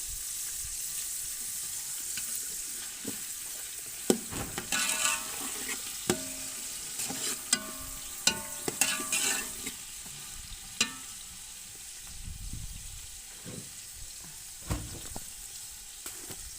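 Tomatoes and masala sizzling in a pot for mater pulao, a steady hiss of frying with intermittent scraping and clanks of a spoon stirring against the pot.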